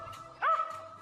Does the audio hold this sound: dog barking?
yes